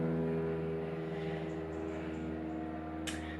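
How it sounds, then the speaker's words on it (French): Steady low droning aircraft engine noise passing overhead, continuous and moderately loud with a smooth tonal hum, and a brief hiss near the end. "Pourquoi des avions?"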